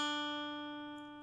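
One guitar note played at the third fret of the B string rings clearly from the start and decays gradually on its own, close and unaccompanied, with no voices over it.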